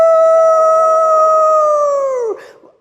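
An audience of people imitates a coyote howl in a room, one long sustained 'aroo' rising from many voices together, holding steady for over two seconds before sliding down and breaking off.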